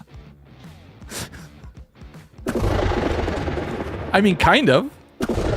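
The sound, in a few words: gunfire from a gun in a Minecraft mod, video game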